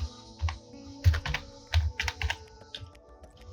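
A short word typed on a computer keyboard: close key taps in an uneven burst with a few louder thumps, over a faint steady background hum.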